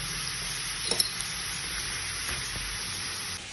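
Pork sautéing in a pan for a pork with salted black beans dish, giving a steady, close sizzle and crackle throughout with a few brief clinks, no voices.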